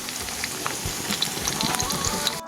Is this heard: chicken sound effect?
no